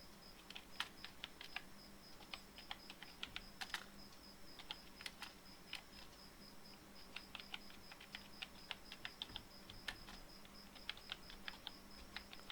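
Someone types steadily on a computer keyboard, making quiet, irregular clicks and keystroke bursts that run throughout, with no voices.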